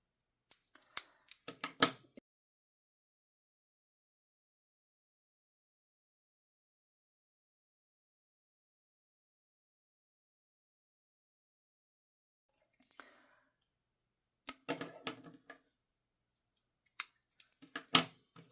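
Scissors snip through strands of yarn in short crisp clusters of close cuts, one group at the start, then after a long silence several more near, clear bursts.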